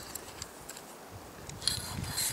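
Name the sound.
unscrewing the screw cap of a UCO Grilliput portable grill tube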